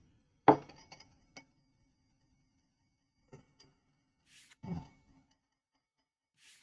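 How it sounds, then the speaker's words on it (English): A spoon clinks against a teacup while tea is stirred, giving a few sparse, sharp chinks with quiet gaps between them, close up and with no voices. "so now I'm stirring my tea here"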